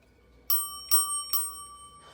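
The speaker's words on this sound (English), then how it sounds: "this is what the bell mechanism does" The bell mechanism of a Bell 564 telephone rings three quick, bright metallic strikes, each leaving a clear ringing tone, close and alone in an otherwise quiet room.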